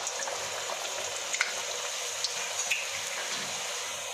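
Puri dough dropped into hot oil for halwa puri, giving a steady close sizzling hiss with small crackles and pops running all the way through, no voices.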